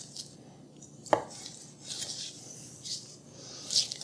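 A Kyoku kitchen knife slices through raw chicken on a cutting board. One sharp knock comes down on the board, with soft, quiet slicing and scraping strokes around it and no talk.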